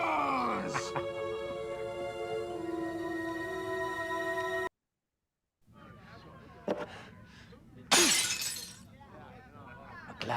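Glass shatters in a loud, bright crash amid a dramatic scene with ringing tones, groans and other noises, preceded by a sustained musical drone and a brief silence.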